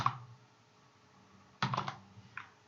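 Short burst of computer keyboard keystrokes while entering a variable name in code, a quick cluster of clicks after a quiet stretch, with a few more taps near the end, close and moderately loud.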